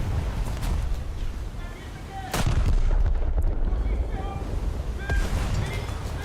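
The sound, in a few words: battleship guns firing, from a video game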